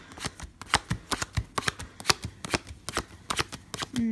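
Playing cards dealt out one by one into a pile for a card trick, a quick run of crisp flicks and soft slaps, close and moderately loud, with no talking.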